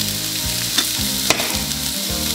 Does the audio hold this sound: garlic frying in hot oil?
yes